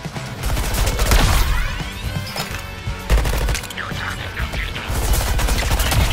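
Sustained gunfire in the game Suicide Squad: Kill the Justice League, loud close bursts of rapid shots mixed with crashes and impacts that run almost continuously throughout, with no talk.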